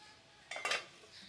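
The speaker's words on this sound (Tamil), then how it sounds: "லிட் போட்டு நல்லா மூடி வச்சுடுங்க." Metal lid set down onto a cooking pot of hotel-style plain parotta salna, giving two quick clattering clinks close by in a quiet kitchen.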